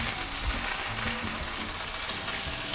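Chicken with chipotle seasoning sears in a skillet, giving a dense, even, loud sizzle of hot oil that runs unbroken throughout, close up, with no voices.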